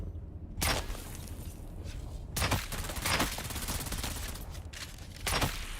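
Rapid bursts of gunfire in the Dune Awakening video game, several sharp loud volleys spaced a second or two apart over continuous background noise, no talking.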